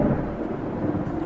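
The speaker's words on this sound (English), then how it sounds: "Why is there thunder and lightning out of nowhere all of a sudden?" Thunder rumbles loud and close through a stormy wash of rain in an audio drama scene, a continuous heavy roll with no voices.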